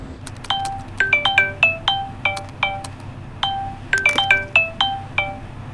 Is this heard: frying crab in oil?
no